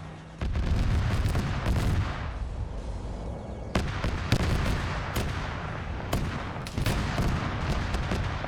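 Gunfire in a video game: repeated loud gunshots cracking close up, spaced irregularly over a steady background din with no voices.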